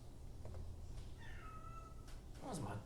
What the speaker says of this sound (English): What was my cat meowing at?